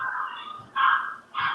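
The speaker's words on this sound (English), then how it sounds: "somebody has a dog in the background" A small chihuahua barks somewhere in the background of a call, three sharp yapping barks in quick succession at moderate level, with no talk over them.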